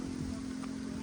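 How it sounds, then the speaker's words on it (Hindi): Rain falls outdoors, picking up in strength, as a steady, even hiss of drops on surfaces with a low constant hum beneath, unbroken for about a second. "बारिश भी आ रही है, ये देखिए अब ज़्यादा होती जा रही है।"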